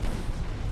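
Warship guns in Ultimate Admiral: Dreadnoughts let off a short, deep, rumbling burst of shellfire, loud and dense across the whole brief moment.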